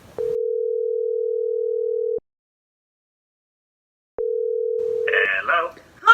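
A steady telephone ringback tone sounds as a call is placed to a friend during a game show: two long, even tones separated by a pause, with people starting to talk as the second tone ends.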